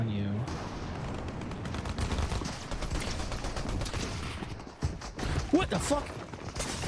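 A shotgun fires in a video game, several sharp bursts of gunfire amid busy game noise, with a person's voice talking over it.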